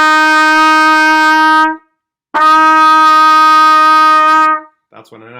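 A trumpet sounds a sustained F note, held clear and steady for nearly two seconds, then played again at length after a short pause, loud and close, followed by a brief trailing sound.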